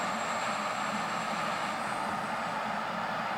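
Airbus A319 jet engines roaring at steady takeoff power in the Infinite Flight game, a continuous broadband rush without breaks or voices.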